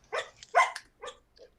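A pet dog barks in a few short, sharp bursts, close and fairly loud, with brief pauses between yelps.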